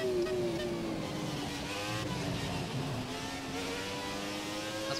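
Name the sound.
F1 car engine on a lap in F1 2017 video game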